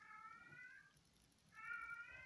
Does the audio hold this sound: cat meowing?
yes